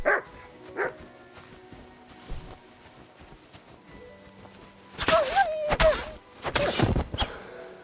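A wild dog in the medieval game Kingdom Come: Deliverance 2 barks and yelps in scattered bursts, a couple of early yips, then louder clustered barks near the end over quiet game ambience.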